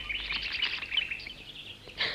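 Birds chirping in a jungle scene, a few faint high tweets and trills in quick irregular bursts, alone and fairly quiet.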